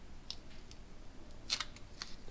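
Scissors snip out a small armrest piece for an RC4WD Trail Finder 3 scale truck interior, a few faint, crisp cuts spaced irregularly over a quiet room.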